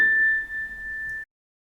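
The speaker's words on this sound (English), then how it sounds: "if we take this note, which is an A, it's made by the string inside of the piano" A single piano A note struck from a string inside the piano, a clear sustained tone ringing steadily for just over a second before cutting off abruptly into silence.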